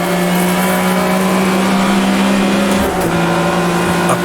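A race car engine in Automobilista 2 holds a loud, steady whine with a brief dip near three seconds as it shifts up a gear, then continues droning at high revs.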